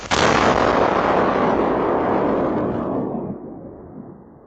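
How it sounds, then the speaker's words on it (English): A Russian cruise missile explodes on farmland countryside in Poland, a sudden loud blast followed by a long, dense roaring rumble that slowly fades over several seconds. "That's a Russian cruise missile exploding on Polish soil, NATO soil."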